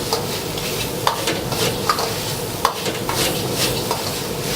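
Pre-cooked peas being stir-fried in a pan, a steady close sizzle and frying hiss with a few sharp scrapes and taps of a utensil against the pan, no voices.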